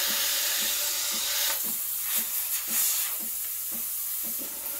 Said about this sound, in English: You're going to have to learn the technique of steaming, keeping the wand at an angle to the milk and sort of spinning it.